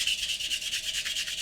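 A sanding sponge rubs back and forth over a model surface in about ten even, rhythmic strokes, a close and steady hissing scrape.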